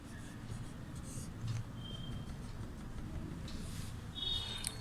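A teacher writing Sanskrit words on a classroom board, faint scratchy strokes and light taps over a steady room hum.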